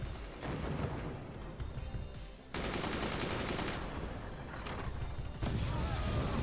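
Gunfire and weapon shots in the artillery game Forts, a dense continuous barrage of blasts and impacts that swells louder partway through and again near the end, with no pauses between volleys.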